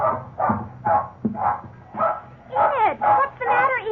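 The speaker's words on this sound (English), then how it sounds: "You can understand our big surprise when suddenly Enid began barking wildly." A young terrier barks wildly, a rapid run of about eight sharp, loud barks close by, the later ones rising into yelping cries.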